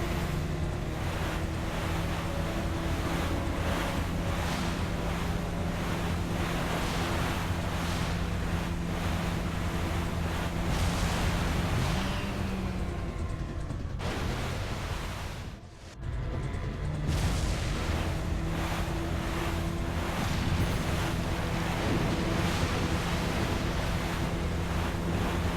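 Crashing waves and rushing wind surround a jet ski speeding over open water in Resident Evil 4, a dense, continuous roar of surf with a motor hum beneath and a brief dip midway.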